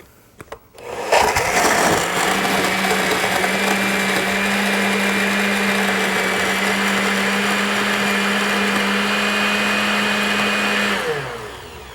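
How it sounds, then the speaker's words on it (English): Blender crushing ice with orange juice for a drink, a loud, steady motor roar that starts abruptly and runs for about ten seconds before winding down. "a good quantity of ice, a couple of scoops, and a bit more for, and let's blend it all up"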